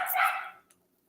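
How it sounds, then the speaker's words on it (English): A dog barks in a short, loud burst close by, then cuts off, leaving near silence with a faint click. "bearing with me through the dogs barking"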